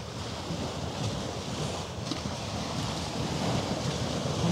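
Waves washing in Hamburg harbour among the container ships, a steady broad rush mixed with wind buffeting the microphone, fairly loud and continuous with no voices.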